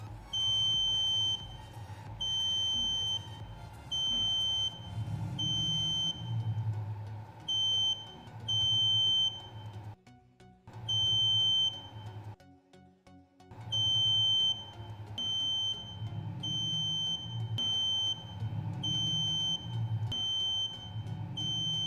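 The buzzer of an IR sensor object detector circuit gives a high electronic tone in repeated beeps of varying length, cutting in and out as objects are sensed, with low hum underneath and two brief gaps.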